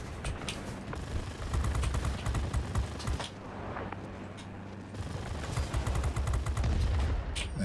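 Rapid bursts of aircraft machine gun fire from a fighter plane in World of Warplanes, loud continuous rattling volleys with a short pause in the middle, over steady engine drone.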